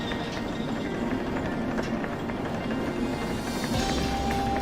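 Military transport train running in the railway simulator game Derail Valley, a continuous rumbling roll with faint rhythmic clicks of wheels on track, steady and loud.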